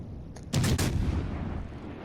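Naval guns firing in World of Warships Legends, a sudden heavy boom after a brief click, then a decaying rumble that fades out over the remaining second.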